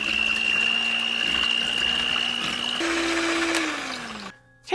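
An electric blender whirs loudly and steadily as it mixes wet coffee cake batter with pure vanilla extract. The pitch jumps once, then winds down, and the motor cuts off near the end, with no voices.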